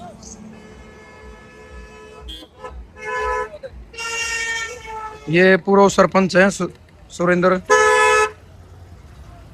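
Village cars setting off together toward Hisar sound repeated loud horn toots, several long and short blasts close by, with someone talking over the traffic.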